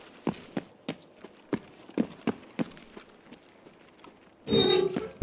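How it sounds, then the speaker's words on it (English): Footsteps in the shooter game Escape from Tarkov, a steady run of distinct, moderately loud thuds about every third of a second, followed at the end by a louder burst of noise. "We hear footsteps, we run."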